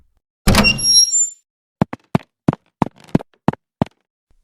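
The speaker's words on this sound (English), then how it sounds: "The door swung open, and she stumbled into the hallway." A door swinging open in a narrated horror story, heard as a loud creaking burst followed by a run of eight evenly spaced sharp thuds, like hurried footsteps, with no talk.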